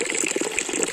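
Natural spring water in a village gushes out in a steady, close splashing flow, bright and bubbling throughout with no voices.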